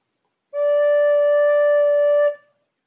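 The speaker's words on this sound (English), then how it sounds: "the note D should sound like this" A single sustained D note on a wind instrument, steady and clear for about two seconds before fading out, played alone with no talking.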